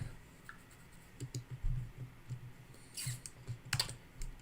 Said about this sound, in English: Tired of typing real emails